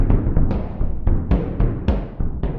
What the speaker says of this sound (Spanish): Primero tenemos un bodhran sampleado en un túnel aparentemente oscuro y húmedo de Edimburgo.